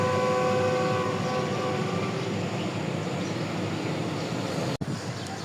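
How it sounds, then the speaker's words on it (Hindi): The 101 Up Super Raftar railcar from Lahore to Rawalpindi rolling past, a steady loud rumble of wheels and engine with a sustained horn-like tone early on, ending in a brief sharp dropout. "तो ये थी 101 अप सुपर रफ्तार रेल कार लाहौर से रावलपिंडी के लिए।"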